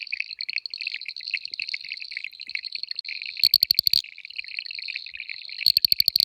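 Boettger's caco frogs (Cacosternum boettgeri) calling at night in the Klein Karoo, a dense chorus of rapid high clicking trills, with a couple of much louder nearby bursts standing out against the background chorus.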